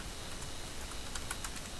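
Quick, light typing on a computer keyboard, a run of soft clicking keystrokes close up, with slightly sharper taps near the end.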